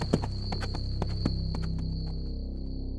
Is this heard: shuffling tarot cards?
no